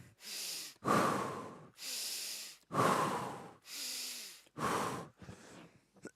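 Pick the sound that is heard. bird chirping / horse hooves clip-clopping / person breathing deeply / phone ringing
person breathing deeply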